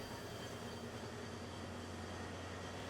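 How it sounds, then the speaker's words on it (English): A 1947-built Alco RS-2 diesel locomotive, Texas State number 7, arrives pulling a special train, a steady, broad rumble and roar that stays constant and fairly distant throughout. "a 1947-built Alco RS-2 diesel locomotive arriving with a special train from the annual Pumpkin Patch event"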